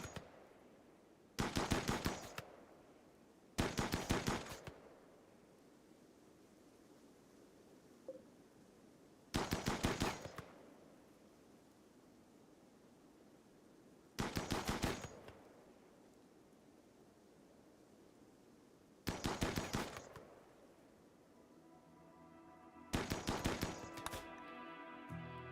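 Short bursts of rapid automatic gunfire in the video game Rimworld, six separate volleys spaced a few seconds apart, sharp and crackling, over a faint background hush.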